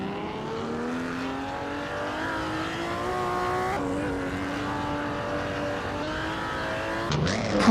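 A 1937 Auto Union Type C race car in a racing video game, its engine holding a steady, sustained roar with a slight rise in pitch and a brief shift midway, loud and continuous throughout.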